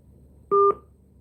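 Two quick telephone keypad tones in a row, each a short steady dual-pitch beep, dialed to return a call, clear and fairly loud against a quiet background with no talking.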